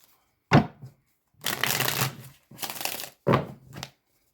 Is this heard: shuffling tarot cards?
yes